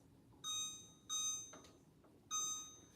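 A kitchen timer gives three short electronic beeps, each a bright tonal burst about half a second long, spaced roughly evenly as it is set to 15 minutes, loud and close over a quiet room.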